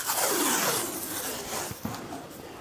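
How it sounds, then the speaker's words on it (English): Blue painter's tape peels off its roll with a long, steady ripping rasp, loud and close, ending in a couple of small sticky snaps; it is used for a homemade wooden cutting board. "You can get some blue tape"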